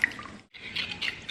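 A small splash of water poured into a very thick mixture, heard as a brief close trickle broken by a short pause.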